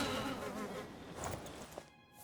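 Blood wasp in the game Oblivion giving a close, continuous droning buzz that wavers in pitch and fades out at the end.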